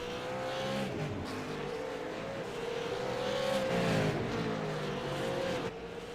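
V8 Supercars race at Brands Hatch in iRacing, engines holding a steady loud drone with a rising and falling pitch as the cars accelerate and shift, up close and continuous.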